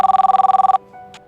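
A telephone rings with a rapid, trilling bell pulse, loud and close, cutting off abruptly after about three quarters of a second, followed by quiet with a faint tone and a small click.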